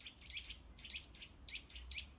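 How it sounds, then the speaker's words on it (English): Small birds chirp in a cemetery, a repeated series of bright, high tweets roughly every half second over a faint low hum, moderately distant and quiet with no talking. "Those birds."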